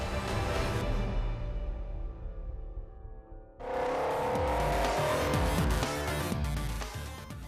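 An Alpine A110 sports car drives hard, its engine note falling away before a sudden loud surge of revving and tire noise. The roar holds strong and close afterward, with no voices.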